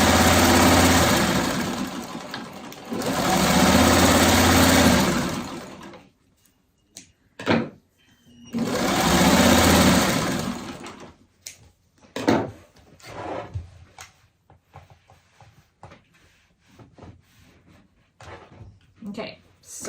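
A sewing machine stitches a seam in fabric in two steady, loud whirring runs of a few seconds each, with clicks and handling of cloth between the runs and a speaking voice now and then.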